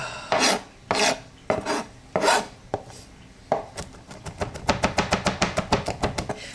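A knife chops garlic on a board, several slow heavy scraping strokes giving way to a fast even run of sharp rhythmic taps, close and loud, no voice.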